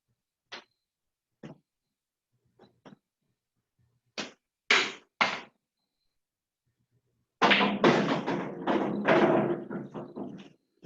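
Sharp clicks of pool balls colliding in a billiards game, scattered single taps and a couple of louder cracks, then a dense rattling burst as balls scatter and knock together, close and moderately loud.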